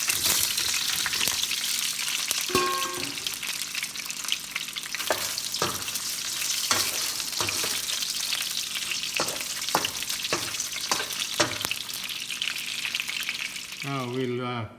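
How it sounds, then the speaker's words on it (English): Mixed seafood sizzles loudly and steadily in a hot pan for the whole stretch, with scattered clanks and scrapes of stirring and a brief voice near the end. "we're gonna just pan fry it"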